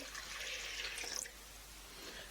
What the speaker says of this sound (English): We pour all the water into a bowl